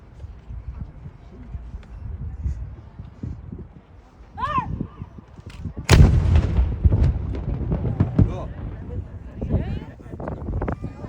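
Halifax Citadel's noon gun fires with a single heavy cannon boom, followed by a rumbling echo and clatter, while people talk nearby before and after the blast.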